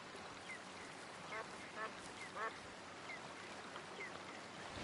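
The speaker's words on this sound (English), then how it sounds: "There's a wild duck over there." A wild duck in the hunting game Way of the Hunter quacks a few times, short raspy calls set against a faint outdoor ambience, distant and soft, with no talking.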